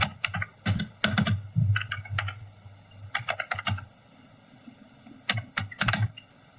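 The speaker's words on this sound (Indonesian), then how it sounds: "Di sini sesuai perintah kita ketikkan yang namanya IP config" Computer keyboard keys clatter in quick bursts separated by short pauses, close and fairly loud, as a command is typed into a command prompt on a PC.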